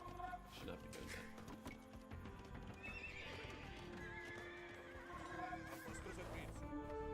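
Horses neigh and whinny repeatedly in a video game over a steady clatter of hooves and battle noise, with short voice lines spoken in Italian throughout.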